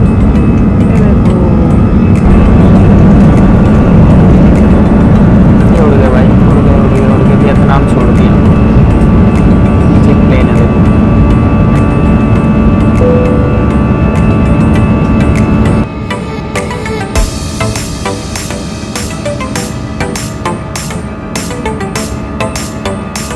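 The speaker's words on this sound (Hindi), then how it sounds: "गाइस अब प्लेन उड़ने वाला है," Airplane on the runway about to take off, steady loud engine roar heard from inside the cabin, continuous throughout, with the tone shifting and thinning partway through.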